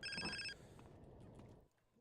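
Phone call ringing in the video game GTA: San Andreas, a short electronic ringtone burst with stacked tones that cuts off, followed by quieter game noise, faint and brief with no talk.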